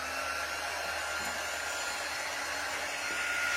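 A hair dryer blows a steady, loud whooshing roar at close range to dry freshly applied chalk designs, running continuously without pause or speech.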